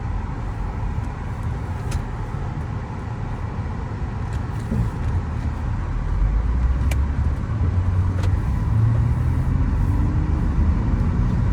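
A car drives on a road test, with a steady low engine and road rumble heard from inside the cabin. The rumble grows slightly louder partway through and there is no talk.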